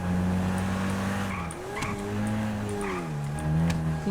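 A video game jeep driving and flying, its engine drone holding steady with rising and falling pitch sweeps, loud and continuous with sharp faint clicks over it.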